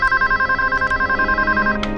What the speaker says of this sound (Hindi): मैं टीना को ही फोन लगाती हूँ।